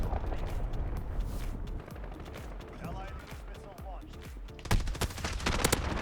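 Gunfire in a first-person shooter video game, with scattered sharp shots and short bursts under a player talking throughout, growing louder and denser toward the end.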